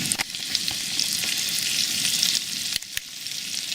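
Camp-grown potatoes and onions fry in a pan with a close, dense, crackling sizzle, punctuated by a few sharp clicks from stirring.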